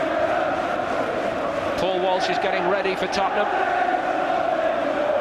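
A dense football crowd chants and roars throughout a Tottenham versus Arsenal FA Cup semi-final at Wembley, a steady loud wash of voices behind a commentator speaking over it.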